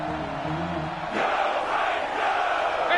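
Stadium crowd noise from an American football video game, swelling into a loud sustained roar of cheering ahead of a big third down, with a low rumble under the first second before the crowd surges.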